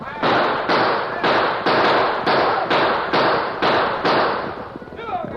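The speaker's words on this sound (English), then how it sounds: "Riding hard, the homesteaders and the ranchers fired on the Indians" Gunfire from ranchers and homesteaders in a radio western drama, a regular series of about eight loud, sharp blasts in quick succession, each ringing briefly before the next.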